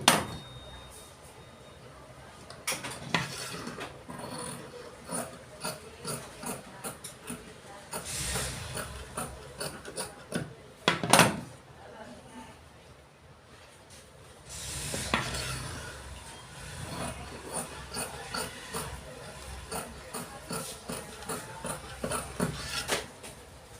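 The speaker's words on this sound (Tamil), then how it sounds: "இப்போ வெட்ட போகிறேன்." Scissors cutting through chudidar fabric, a series of irregular crisp snips and rustling strokes, with clusters of louder cuts and pauses between them, close by and with no speech.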